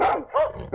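A pet dog barks aggressively, two quick, loud, close barks in under a second with no talking.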